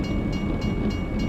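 A train approaches in American Truck Simulator, a dense steady rumble of rolling rail cars with faint rhythmic clatter, continuous and fairly loud, with no voices.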